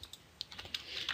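Someone types on a computer keyboard in quick irregular bursts of light key clicks, quiet and close, with no voices over it.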